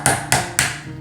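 Three sharp metallic strikes of a hammer driving a screwdriver into a coconut to punch holes, evenly spaced about a quarter second apart, loud and close, each ringing briefly before fading.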